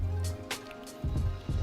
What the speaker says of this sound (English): I gotta just get a quick swig of water